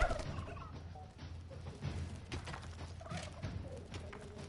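A flock of chickens in the video game Dungeons 3 clucks and squawks steadily, overlapping bird calls with occasional soft clopping taps beneath them and no voices.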